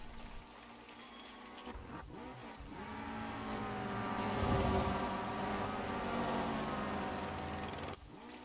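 Renault Clio Cup race car engines in Project Cars 2 at Monza, a steady loud drone that rises and peaks mid-run, then eases, with brief shifts near the start and end.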